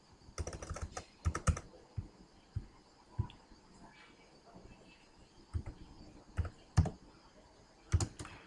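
Keys clatter on a computer keyboard as someone types in a Word document, bursts of sharp clicks coming in irregular clusters with quiet gaps between them, close and fairly soft.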